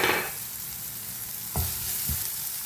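Curry bun filling with turmeric powder being stirred in a pan, with a steady frying sizzle throughout and a couple of distinct scrape-and-clunk strokes of the spoon against the pan, no talking.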